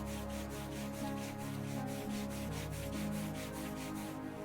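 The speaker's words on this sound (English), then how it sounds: "bring the hands to either side of the knee and start to rub up and down, really creating friction and warmth" Hands rub briskly up and down on both sides of a knee in a seated chair yoga exercise, a steady, fast, rhythmic swishing of skin and fabric over soft, sustained background music.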